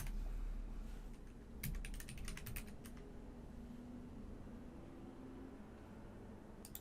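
Quiet clicking of a computer keyboard while a command is typed, with a short burst of rapid keystrokes and a few scattered taps over faint background hiss, no voices.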